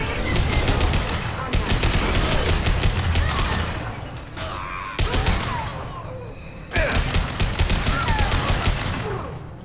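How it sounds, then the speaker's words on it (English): Rapid enemy gunfire in the Mass Effect 2 game rattles in dense, loud bursts of fusillade and machine-gun fire, broken by a few short lulls, with a voice talking briefly over the combat. "Oh, being shot at."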